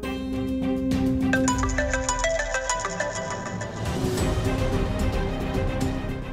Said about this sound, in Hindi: आकाश का फोन मुझे क्यों आ रहा है